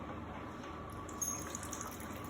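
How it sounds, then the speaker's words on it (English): Water poured carefully into a tightly fitted baking dish around ramekins for a water bath, a steady soft gushing and splashing that runs continuously at close range with no talking. "And now I'm going to pour water into the pan around them very carefully."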